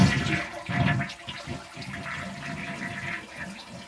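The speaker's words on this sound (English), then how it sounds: "let's go ahead and flush it and see if the flapper valve stays open properly" Toilet with a newly replaced Korky flapper valve flushing, a close rushing gurgle of water draining from the tank into the bowl, surging loudly at first then settling into a steady swirling refill.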